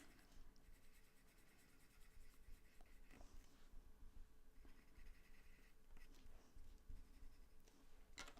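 Coloured pencil drawing on paper, layered over Spectrum Noir marker: a faint, close, continuous scratchy rubbing of lead against the page in short back-and-forth strokes, with no talk.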